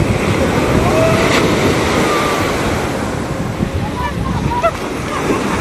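Sea waves break on the beach at Puri, a steady heavy roar of surf with wind buffeting the microphone, close and loud throughout with faint voices in the background.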